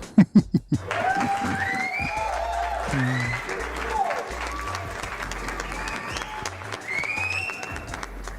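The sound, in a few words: applause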